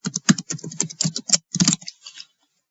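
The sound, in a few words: typing a password on a computer keyboard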